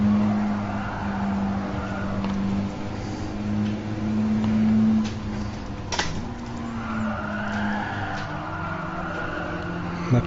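A red-wheeled Audi TT races in Gran Turismo Sport, its engine droning steadily at close range with shifting pitch, a sharp tire squeal or skid near the middle, and engine noise continuing throughout.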